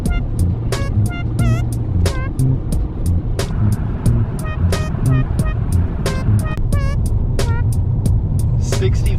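A cheap upgraded camper van drives along a road, with a steady low engine and road rumble throughout and scattered sharp clicks and rattles on top.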